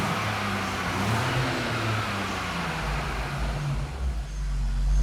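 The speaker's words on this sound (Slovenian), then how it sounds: "Zdaj avto nam je vžgal" A car engine idling steadily just after being started, a continuous low rumble with a slight fan-like hum and minor fluctuations, no talking.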